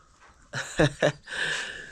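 A dog at a home construction site gives two short, close yelps or whimpers between a softer breathy whine and panting, fairly loud and with no talking.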